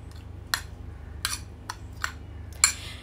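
A spoon clinks against a bowl while mixing a homemade rose water and apple face mask, giving about six light, irregular taps over a low steady hum.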